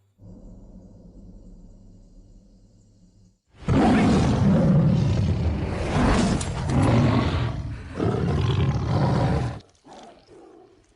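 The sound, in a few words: tiger roaring in film Sming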